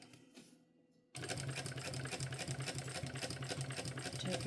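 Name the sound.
sewing machine basting backpack panels together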